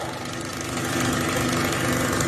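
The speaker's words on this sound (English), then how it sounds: "It's like a jackhammer. Is that how our plumbing sounds? That is the water faucet." A water faucet's plumbing hammers and rattles like a jackhammer, a fast, harsh, continuous chatter that grows slightly louder partway through.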